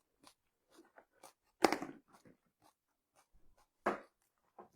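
Close, crisp crunching bites and chewing while tasting homemade salsa, in short irregular bursts with two louder crunches standing out against near silence.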